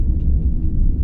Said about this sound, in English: is someone who's put together 24 hours of Star Trek: The Next Generation ambient noise